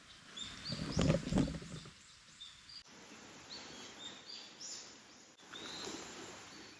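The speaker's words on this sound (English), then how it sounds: "Warning the other deer that we're here that noise." Wild deer on the remote Kunisaki Trail in Japan call to one another in warning, a few sharp, high calls ringing from a distance in quiet forest, with birds chirping faintly around them.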